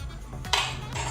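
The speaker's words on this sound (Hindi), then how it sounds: "कढ़ाई चढ़ा दी है गरम होने के लिए" A metal kadhai is set down on a kitchen stove with a brief clank of cookware, close and moderately loud against a low steady hum, with no talking.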